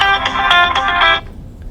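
Short electronic ringtone from a mobile phone, a bright tonal chime pulsing for about a second before cutting off abruptly as it is silenced.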